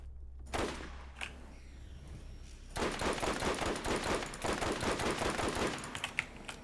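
Automatic fire from the Ajax Ogre machine gun in Borderlands, a dense rapid burst of shots running steadily for several seconds after a few quieter pops, loud and close with no talk.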